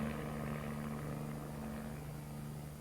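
Old propeller-driven cargo planes flown by contract airlines in northern Laos, heard as a steady droning engine hum with a constant tone, continuous and fairly close, with no voices.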